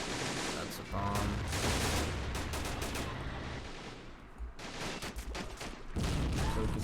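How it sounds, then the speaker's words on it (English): Bursts of explosions and gunfire in the Men of War: Assault Squad 2 video game with an Army Men mod, loud rapid volleys that briefly drop away mid-clip before resuming. "some bombs are going off"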